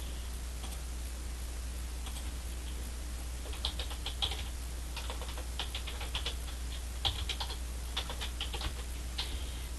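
Computer keyboard keys tapped in short irregular bursts while entering text in Cricut Design Space, fairly quiet and close, with a steady low hum underneath and no talking.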